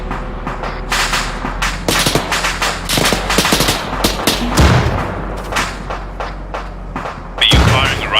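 Dense gunfire in the military video game Arma 3: continuous rapid automatic bursts mixed with heavier booming shots, loud and sustained throughout, with no voice over it.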